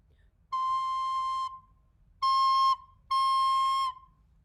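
Three clear, steady high C notes from a recorder, the first held about a second, then a short one and a longer one, alone against faint background hiss.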